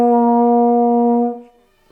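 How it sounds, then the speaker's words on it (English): A tense brass embouchure deliberately exaggerated, buzzing a sustained B flat with a rough double buzz, one steady bright note held about a second and a half, then cutting off, with no talking. "if you're very tense because you think you have to have a very strong embouchure, it will give you this ugly buzz"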